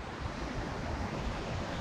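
Broadband rushing water from a river beside a hiking route, a steady dense wash with some wind noise, continuous and fairly close, no voices.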